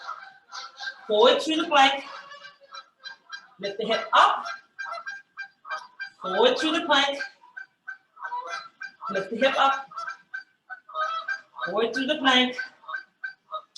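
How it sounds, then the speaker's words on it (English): Canada geese honk in repeated bursts, fairly loud and nearby, while a woman steadily gives exercise instructions over them. "And the Canada Goose think that's their home."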